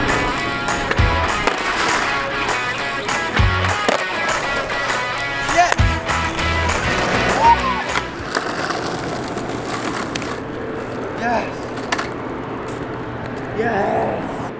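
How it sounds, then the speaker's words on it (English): Skateboard rolling and landing a fakie big spin down a gap outdoors, with loud wheel roar and sharp board impacts over steady noise and voices. "I landed the fakie big spin down a gap today"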